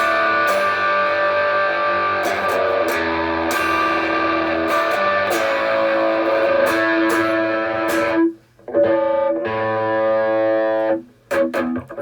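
An electric guitar plays through a Fender Pugilist distortion pedal with blend settings A and B engaged, sustained crunchy chords ringing loud and close, with two brief cut-offs near the end before the tone resumes.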